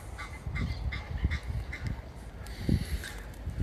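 A Nile goose keeps up a run of harsh, honking calls, irregular and fairly close, carrying over a steady outdoor background with no one speaking.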